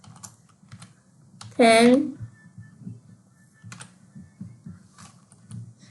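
Keyboard keys tapped in short, sparse bursts while composing an email, close and fairly quiet, with a brief spoken word partway through and a low room hum underneath.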